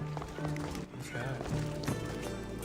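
Footsteps of a character moving through ancient Greece in Assassin's Creed Odyssey, a steady run of soft treads under game music and ambience, with faint talk mixed in.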